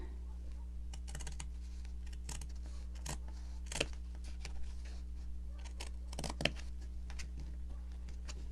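Scissors snipping through a folded fabric pattern piece for a purple gnome, a series of crisp, separate cutting clicks at irregular intervals over a steady low hum, close and fairly quiet.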